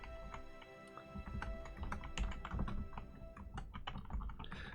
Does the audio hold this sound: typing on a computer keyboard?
yes